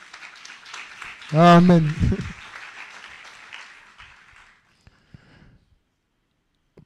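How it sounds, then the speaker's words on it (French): A church congregation applauding to acclaim the Lord, a brief burst of clapping and voices that fades out over a few seconds, with a voice speaking near the start. "Maintenant, il faut acclamer le Seigneur."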